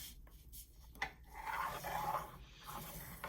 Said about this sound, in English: I'm gonna fold it in half this way, and then we're going to open it up and fold it the other way and make 4 squares.